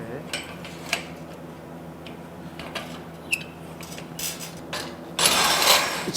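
A tack-welded stainless steel workpiece is clamped into a welding jig for overhead-position welding, making scattered metallic clicks, taps and clanks with a longer rattling scrape near the end, all at close range.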